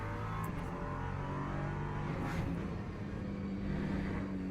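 An LMP3 prototype in the Le Mans Ultimate racing game roars at high revs under full throttle as its wheels spin, a loud, continuous engine drone with no voices.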